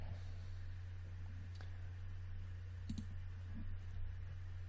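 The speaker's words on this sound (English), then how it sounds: "Let's just double click on that" A computer mouse is double-clicked during 3D modeling work. Faint, tiny clicks come through a steady fan hum and quiet room noise.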